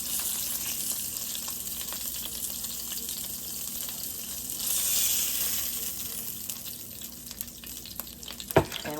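Burgers frying in a pan make a steady, close sizzle throughout, with a slight swell in the middle and a sharp utensil clack near the end, with no voices.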